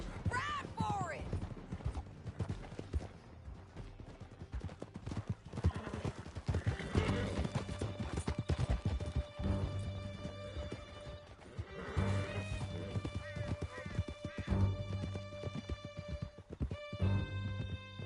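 Horses gallop hard in a Red Dead Redemption II chase through a canyon, with a steady clip-clop of hooves and an occasional neigh, loud and close, while riders shout to one another over the hoofbeats.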